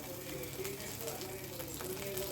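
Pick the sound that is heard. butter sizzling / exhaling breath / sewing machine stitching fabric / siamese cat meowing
butter sizzling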